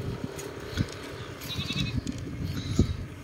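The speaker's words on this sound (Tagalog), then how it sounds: "Okay, dito may mga tupa dito. Yun, mga tupa. Dami. Tupa. Sa kabila may mga kambing." Sheep and goats bleat in a farm enclosure, several short calls close by and at a distance over steady rustling and shuffling, with a few louder bleats standing out.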